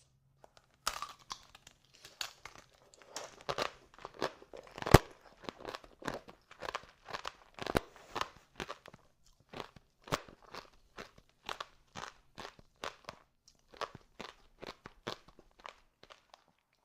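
Crisp crunches ring out as someone bites and chews tanghulu, fresh strawberries coated in a hard, crackly sugar shell. The crunches come in close, irregular bursts that are loud against near silence, with one sharp snap early on.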